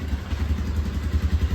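A motorcycle engine runs with a low, uneven throbbing rumble as the bike is taken out, close and steady with no talk.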